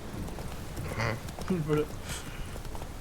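A horse's hooves clip-clop in The Witcher 3, a few faint, uneven steps heard mostly under a voice speaking over them.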